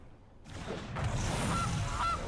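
Cartoonish goose honks in a Magic: The Gathering digital card game, rising over a swelling whoosh, with two short nasal honks close together near the end.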